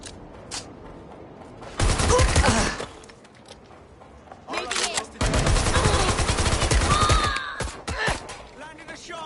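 Rapid bursts of automatic gunfire in the video game Watch Dogs Legion, two loud sustained volleys of shots with brief quieter gaps and some shattering between them.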